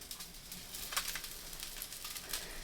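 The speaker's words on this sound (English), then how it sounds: "But first meal being cooked in the van" Salmon sizzling and frying inside a Mercedes Vario van conversion, a faint steady crackle with scattered soft pops and stirring sounds, no voices.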